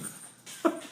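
A dog named Peanut gives a brief, soft whimper, a single short whine rising near the end over quiet room tone.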